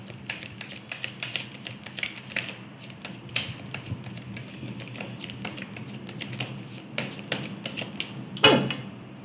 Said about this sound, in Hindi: still I am gonna pull one card for your advice